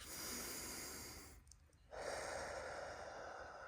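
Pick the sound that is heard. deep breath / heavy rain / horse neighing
deep breath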